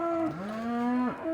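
A cow moos loudly and close by with a drawn-out low call that bends in pitch, as cattle are worked through a handling system with bars, and no one talks.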